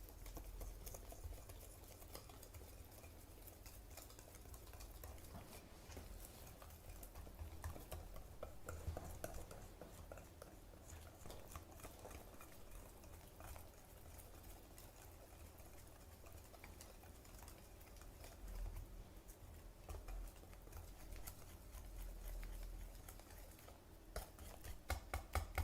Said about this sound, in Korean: 이렇게 잘 섞어줍니다.